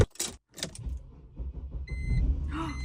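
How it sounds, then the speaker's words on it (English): A car engine cranks and starts in cold weather, preceded by a few clicks and rustles, then settles into a near, steady idle. "fingers crossed my car starts in the cold"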